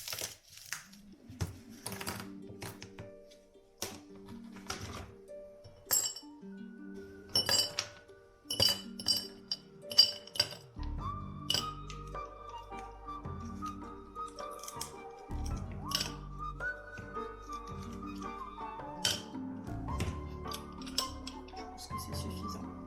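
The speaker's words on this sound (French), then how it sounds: "Et là je vais faire les glaçons" Ice cubes for iced coffee knock and clink against a hard container in scattered sharp taps, then a steadier stretch of rattling and low rumbling clatter, nearby with no talking.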